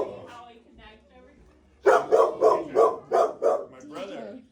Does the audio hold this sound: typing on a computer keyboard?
no